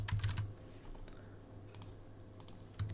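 Quick bursts of clicky typing on a computer keyboard, close and fairly quiet, with brief pauses between keystroke runs and a short flurry again at the end.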